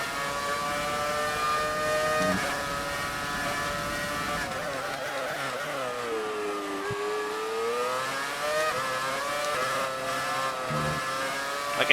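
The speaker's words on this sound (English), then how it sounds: "I can hear that V10 behind us" A V10 engine of a chasing Formula 1 car in F1 2018 races close behind, a steady high-pitched harmonic whine rising and falling with revs, loud and continuous throughout.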